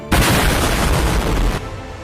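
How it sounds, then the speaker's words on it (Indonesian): Two sect leaders' attacks collide in a single loud, heavy boom that starts abruptly, rumbles for about a second and a half, then cuts off. "Dampak dari serangan dari mereka berdua sampai membuat dentuman yang kencang."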